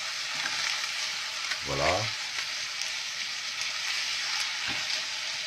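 Pasta turned in butter in a hot pan, a steady frying sizzle running throughout with a brief stirring scrape midway, a short spoken word near the end.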